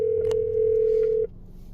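A steady single-pitch telephone tone on a recorded phone call, holding evenly for about a second before cutting off abruptly, with faint low background noise.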